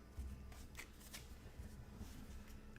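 Deck of cards shuffled in the Sentinels of the Multiverse game, a soft, fluttering riffle of cards continuing at low volume throughout.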